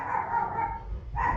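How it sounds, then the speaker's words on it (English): Two dogs bark in short repeated bursts, fairly loud and close, with a brief gap before a final bark. "now both dogs go."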